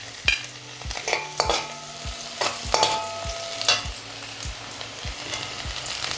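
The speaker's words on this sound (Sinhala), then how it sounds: "තෙල් ටික රත් වෙගෙන එද්දී අපි ඉඟුරු ටික දාගමු" Ginger and garlic fry in hot oil in a pan with a busy, continuous sizzle. Regular scraping stir strokes repeat about twice a second and sit close and clear, with no talk.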